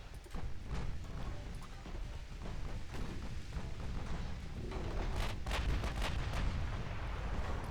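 Naval battle game: a flash fire detonates aboard a warship, bringing a rolling rumble of explosions and artillery-like booms. The layered blasts are dense and continuous, building louder toward the end.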